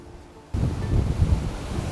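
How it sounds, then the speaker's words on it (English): The lower waterfall at Balls Falls and the rushing 20-mile creek make a steady roaring wash of water that swells suddenly after a quiet start and then stays loud and close. "These falls are so loud."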